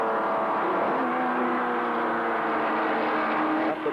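Touring race cars climbing a mountain straight at the 1978 Hardie Ferodo 1000 at Bathurst, a dense, steady roar of several engines held at high revs, loud and continuous without letup.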